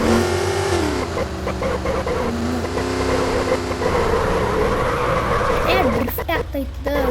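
A car engine in a car crash video game revs with shifting pitch while the car drifts. Someone talks over it almost the whole time.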